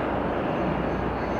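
A small airplane passes near Atlanta's airport, heard from a parking deck as a steady, loud engine drone that fills the whole moment without letup.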